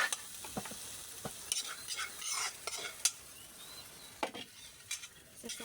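An egg fries in a pan as it is stirred, with soft sizzling under a series of light scraping and clinking utensil strokes against the pan, irregular and close.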